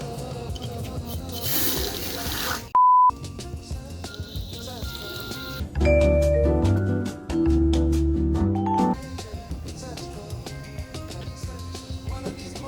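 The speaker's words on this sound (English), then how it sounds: "I'll put some regular water in here as well." Plain tap water splashes and pours into a container for watering a citrus plant, a short burst of rushing liquid followed by quieter clinks and tonal background sounds.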